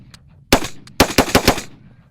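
A NEMO Arms XO Carbon rifle fires loud, close shots: a single crack, a pause, then a rapid string of four more in quick succession.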